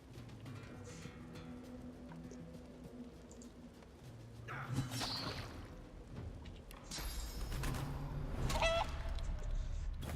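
Clucking and squawking chicken calls from the Divinity: Original Sin 2 video game come in several scattered bursts of varying loudness over a low ambient game soundscape, with no talking.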